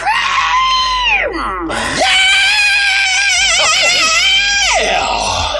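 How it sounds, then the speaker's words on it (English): A loud, sustained rock scream from a single voice, rising high, sliding down, then surging back up into a long, wavering, strained cry that holds before falling away. "Let out your rock scream!"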